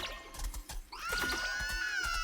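Marshmallow peep minions screaming in the video game SMITE, a high, shrill wailing cry that rises and holds, preceded by a few clicky game effects, fairly faint.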